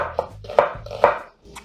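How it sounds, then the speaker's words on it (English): A knife chops onions on a board in a kitchen, three or four quick crisp thuds in a rapid rhythm, close and clear with no talking. "we're gonna chop carefully because sometimes when you're chopping onions at the speed of sound at work"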